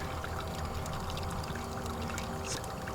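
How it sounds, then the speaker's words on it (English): Water pours from a GOLDROP into a gold pan as a steady, close, continuous trickling stream, fairly quiet, with no talking. "Now I'll go ahead and lower the"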